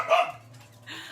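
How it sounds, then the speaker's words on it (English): Pet dogs indoors give one short, fairly close bark that trails into a softer yip, with no talking. "Oh, my dogs. Every time I say hi or hello, even if it's for a phone call, they just have to chime in."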